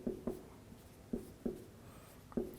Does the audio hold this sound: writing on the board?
yes